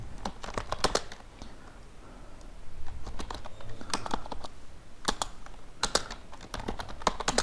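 Typing on a computer keyboard while writing in Microsoft Word 2007: a close, crisp patter of keystrokes in uneven bursts with brief pauses, alone without speech.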